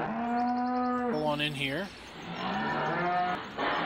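Cows at a loading ramp in the Farming Simulator 17 video game, two long, close moos one after the other, with a voice talking briefly over them.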